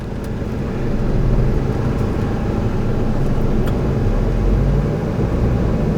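A restored Chevrolet Aveo styled to look like a Ferrari accelerating, its engine giving a loud, steady, low rumble that swells and holds over several seconds with no talk.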